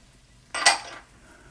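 Minced garlic tipped into a pan of sautéing onion, a short clatter of a utensil against the pan followed by a brief burst of sizzling, close and fairly loud.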